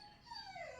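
A dog fussing indoors, wanting to go outside, a single thin, high whine that slides downward, faint and brief.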